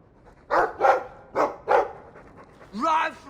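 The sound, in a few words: dog barking in video game Dragon Age 2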